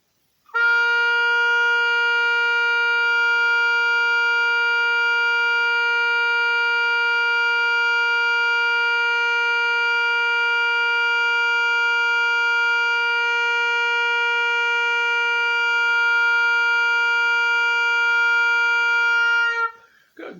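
A single steady oboe tone on B flat held for about twenty seconds at even volume, bright and reedy, played alone with no accompaniment.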